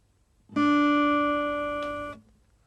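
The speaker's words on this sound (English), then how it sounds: "we have the second string played at the 3rd fret." A single acoustic guitar note on the second string fretted at the third fret rings out clearly on its own, sustaining steadily for about a second and a half before being cut off, with a faint click near its end.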